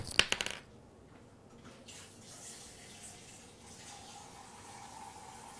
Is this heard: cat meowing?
no